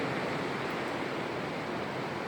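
Ocean surf gives a steady, broad wash of rushing noise at moderate level, unbroken and without voices.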